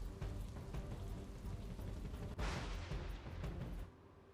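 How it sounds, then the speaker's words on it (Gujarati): Heavy rain pours with strong wind in the desert at Nadabet, near the India–Pakistan border in Gujarat's Vav-Tharad district. It makes a dense, steady roar that surges sharply midway and then drops off near the end. "વાવ થરાદ જિલ્લામાં અતિ ભારે વરસાદ પડ્યો છે।"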